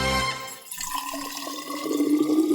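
Hot water is poured over freshly renewed yerba in a mate gourd: a steady, close liquid stream that gurgles and rises in pitch as it fills, with no voices.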